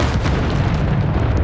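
The Descendo spell slams down in Hogwarts Legacy, a loud, dense, low boom with rumble that holds steady and fills the whole moment, with no talking.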